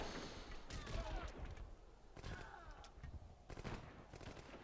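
Machine gun fire in a Civilization 4 battle, with several bursts of rapid shots and thuds coming in clusters at moderate volume, some mixed background noise, and no clear talking.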